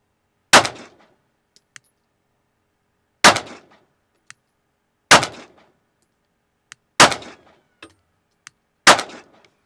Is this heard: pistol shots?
yes